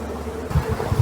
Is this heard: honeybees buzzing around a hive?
yes